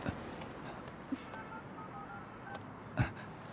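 Telephone keypad tones as a number is dialed to reach the manager, faint steady beeps over a low background hum in a Hindi-dubbed South Indian film scene, with a soft thump near the end.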